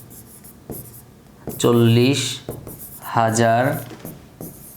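A pen writes on paper in short scratchy strokes, faint beneath someone speaking close to the microphone.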